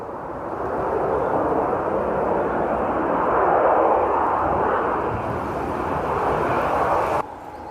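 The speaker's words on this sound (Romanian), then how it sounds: "Uitați ce frumos a aterizat." Ryanair airliner at Stansted Airport, a broad steady engine roar holding close and loud throughout, easing slightly before dropping off abruptly near the end.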